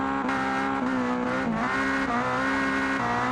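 A hypercar with a high-revving racing engine screams steadily as it launches off a car jump in the Automation driving game, the tone holding high with small dips, tire noise beneath.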